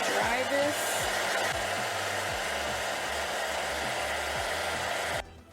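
A hair dryer roars steadily and close up as it blows over a wet watercolor landscape painting, its whine holding constant for several seconds before cutting off abruptly near the end.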